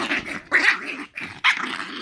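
A dog named Corby growls and barks in short bursts close by, three gruff rumbling outbursts with brief pauses between them.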